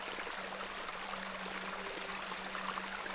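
A tumbling beck in the video game The Excavation of Hob's Barrow, a steady rushing, babbling flow of water under a faint low hum, continuous and moderately quiet with no voices.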